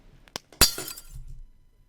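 A glass breaking effect: a small click, then a loud close shatter with bright scattering shards that quickly die away into quiet.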